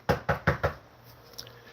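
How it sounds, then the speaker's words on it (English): Four quick, evenly spaced knocks rap on wood, close and distinct, followed by a faint fifth tap and quiet room tone. "knock on wood again"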